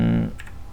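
Quick keystrokes on a computer keyboard, a few soft clicks following a brief low tonal hum, close and faint, with no voices.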